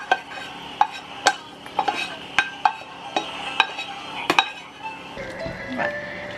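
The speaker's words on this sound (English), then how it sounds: "I'm gonna have to use the spoon to kind of mix it up as best as I can." A spoon stirs hot vegetables into a mixture in a bowl, clinking and scraping against the sides in a steady rhythm of close, sharp taps, with a softer shuffle near the end.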